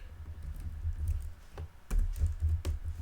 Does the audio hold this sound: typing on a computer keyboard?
yes